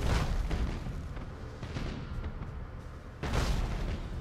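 Dense rumbling booms and crackling blasts of a spaceship being destroyed in the space battle game Battlefleet Gothic Armada, continuous heavy fire with a loud fresh burst near the end, no talk.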